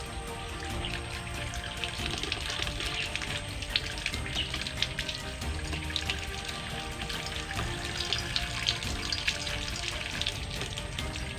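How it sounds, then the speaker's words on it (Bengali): Tap water runs steadily into a bucket being filled full, a continuous splashing rush that stays fairly even throughout with no voices. "এই বালতির ভিতরে আমরা জল ভরে নেবো, সম্পূর্ণ জল"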